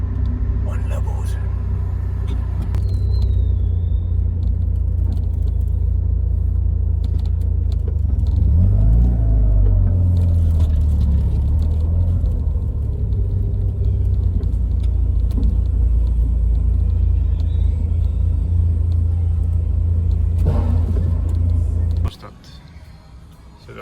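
A car sits in a traffic jam, its engine giving a steady low rumble for most of the time while someone speaks over it, until the rumble cuts off abruptly near the end.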